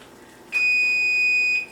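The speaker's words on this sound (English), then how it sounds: "that was our timer for our oven" An oven timer gives one sustained electronic beep lasting about a second, clear and fairly close in a quiet kitchen.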